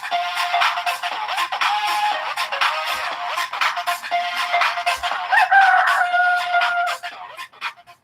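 A rooster crows loudly and continuously, its harmonic calls layered with clucking fowl, opening the Galo Digital intro segment.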